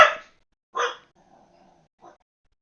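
A female dog at home gives two sharp, close barks in quick succession, then a low faint whine and one softer short yip.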